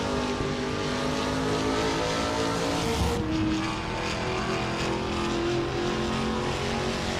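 Trans Am race cars, including a Chevrolet Camaro, roar past on a circuit in a dense, steady wall of engine noise that holds loud from start to finish.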